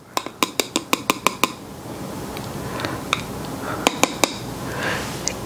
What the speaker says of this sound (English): I'll shake it up just a little bit to get some powder